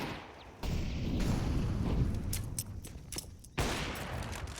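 Bursts of rapid gunfire from a Counter-Strike match on the Ancient map, dense crackling volleys with brief gaps, moderately loud, no voices over them.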